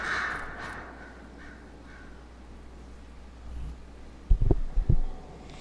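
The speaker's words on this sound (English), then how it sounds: "damn those birds!" Crows caw in the video game Dragon Age: Inquisition: a few faint calls at the start over a low ambient hum, then a louder cluster of harsh caws near the end.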